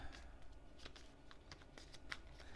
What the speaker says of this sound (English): Those get shuffled